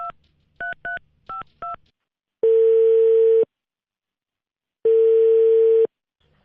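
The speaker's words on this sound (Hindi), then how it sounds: "मैं इसमें से एक को डायल करूंगा." Touch-tone telephone dialing for a call to a Karachi number: a quick string of short two-tone beeps, then two long, steady ringback tones separated by a pause, loud and close.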